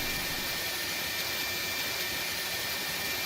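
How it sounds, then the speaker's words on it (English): An MD-11 jet taxiing in X-Plane 11, a steady broad whooshing jet roar held evenly throughout at moderate distance. "There's a MD-11 taxiing in,"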